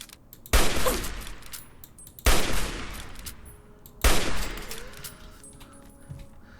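Three loud, sharp gunshot bursts from a weapon in Fallout 3, spaced about two seconds apart, each with a short echoing decay, followed by faint clinks; no voices.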